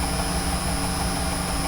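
An electric motor driven by a frequency inverter, in a limit-switch reversing setup, gives a steady loud hum with constant tonal whine throughout, no break or change in pitch.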